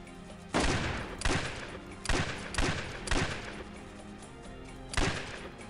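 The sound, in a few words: gunfire from double rig guns in a western video game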